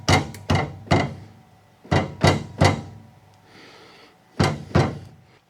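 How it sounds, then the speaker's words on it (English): Rubber mallet tapping a sleeve into a rear shock on a second-generation Ford Ranger: a series of sharp, solid thuds, close and loud, coming in short clusters of two or three with pauses between them. "So I'm actually going to take a rubber mallet and I'm going to tap in that little sleeve there."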